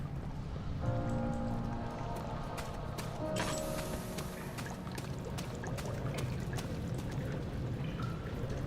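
Water poured and splashing in the Amnesia game, a steady broadband wash with faint tonal ringing, continuous and moderately close throughout.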